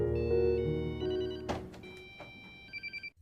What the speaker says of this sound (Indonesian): ponsel gadis itu berbunyi